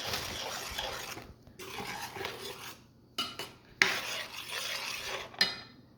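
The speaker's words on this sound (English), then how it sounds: "Mix your spices in here, in the gravy" Spices are stirred into a palak paneer gravy in a pot over medium-low heat: a metal spoon scrapes and clinks against the pot in several bursts separated by brief pauses, with sharp knocks near the end and no talking.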